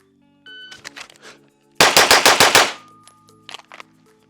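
Glock pistol fired in a timed drill: a rapid string of about seven loud, sharp shots in quick rhythm, after a few softer clacks and followed by scattered lighter clicks.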